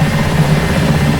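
A helicopter in a flight simulator video game, its steady rotor thrum and low engine drone loud and close, without a break and with no voices.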